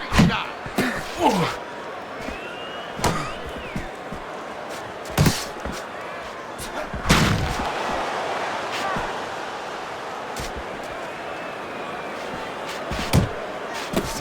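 Body punches land in a Fight Night Champion boxing match between Sugar Ray Robinson and Jake LaMotta, a handful of sharp, loud thuds spaced irregularly over crowd murmur, with a commentator talking throughout.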